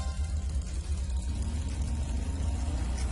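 A motorbike engine in the Trails of Cold Steel video game pulls away with a steady low rumble and whir that holds at an even, moderately loud level throughout, with no speech.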